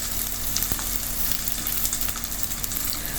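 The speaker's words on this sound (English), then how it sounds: "I'm cracking some mustards, adding some curry leaves." Mustard seeds and curry leaves crackle in hot oil for Kerala-style jackfruit curry, a dense close sizzle with scattered sharp pops and spits throughout.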